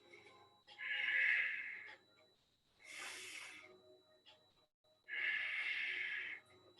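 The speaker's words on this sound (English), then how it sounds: "Two more breaths here." Deep breaths during a yoga warrior pose: three long, loud, airy exhalations, evenly spaced, with quieter gaps and a softer breath in the middle.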